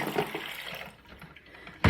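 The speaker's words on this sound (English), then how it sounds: "I don't think I put enough water in here. I gotta put a little more" Water pouring into a container for coffee, a steady close splashing stream that thins out partway, then ends with a sharp knock.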